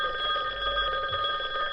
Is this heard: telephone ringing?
yes